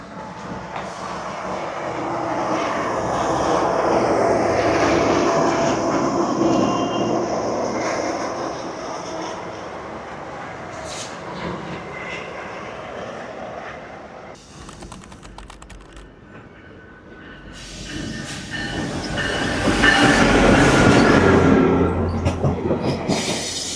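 A train pulls into a station platform and runs on, with a steady rumble and rattling wagons that swell, dip and build again to a louder roar with some squealing wheels. There is no talk.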